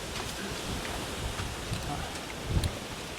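Heavy rain pours steadily in a dense, constant hiss, with gusts of wind and a few louder spatters near the end.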